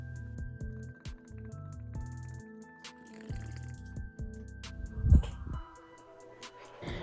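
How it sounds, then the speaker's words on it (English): Bong water bubbling during a rip, a series of gurgling, rhythmic bubbling bursts in short clusters with pauses between, close up, ending in a louder splashy gurgle. "let's go ahead and take a bong rip"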